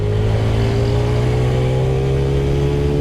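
TVS Radeon 110cc motorcycle engine from 2024 held at high revs in second gear, a loud, steady buzzing drone that stays close and constant throughout with no talk over it.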